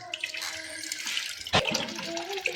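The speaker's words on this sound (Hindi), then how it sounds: "तो देखो मैं चावल धो रही हूँ जी, और चावल धो के और उसके बाद भिगोऊंगी इन चावलों के लिए।" Tap water runs steadily into a kitchen sink as rice is rinsed by hand, a continuous close splashing wash with one brief louder splash partway through.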